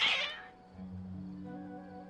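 A cat meows in the Genshin Impact video game, one clear high cry at the start, then a low sustained tonal hum of game ambience.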